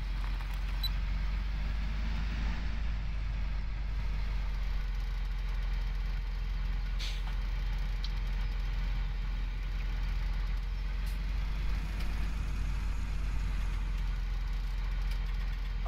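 A tractor engine in Farming Simulator 17 idles at a low, steady hum, faint and unbroken throughout with no other notable sounds.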